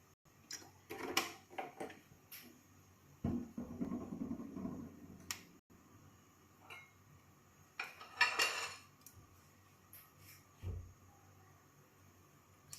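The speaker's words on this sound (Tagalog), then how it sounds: "maglagay muna tayo ng cooking oil sa ating frying pan" A frying pan is handled on the stove while cooking oil goes in before sautéing onion and garlic: faint, scattered metallic clinks, taps and a short scraping rustle, with quiet gaps between.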